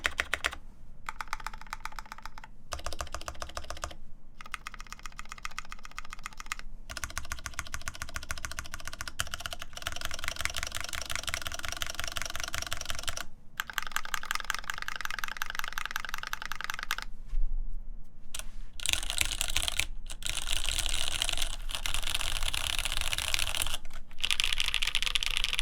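Steady typing on a mechanical keyboard in a RAMA M65-A build, its MX Black linear switches lubed with Krytox 205 grade 0, giving dense continuous keystroke clatter with a few brief pauses, close and alone without talk.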